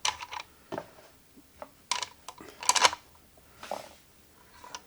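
Small metallic clicks and taps from tuning pegs being fitted and screwed into the headstock of a handbuilt fretless guitar, scattered and close, quiet between the bursts.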